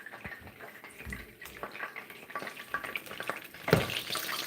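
Hot cooking oil sizzling on a stove fire during home cooking of a Haitian meal, a steady crackling hiss with small bursts and a sharper pop near the end, fairly close and moderately loud with no talking.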